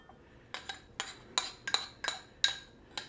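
Glass and metal clinks as ingredients go into a glass Pyrex measuring cup for Peruvian fried rice, with about eight sharp clinks and taps in an uneven rhythm, close and moderately loud, and no talking.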